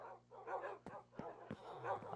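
Tamed Minecraft wolves give a few short barks and yips in quick succession, with a low whine beneath, faint and close.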